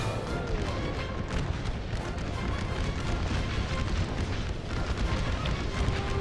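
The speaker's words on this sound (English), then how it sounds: "He's moving forwards despite that incoming artillery fire" Incoming artillery fire in an American Civil War game, a dense and continuous rumble of distant booms and blasts rolling on without pause.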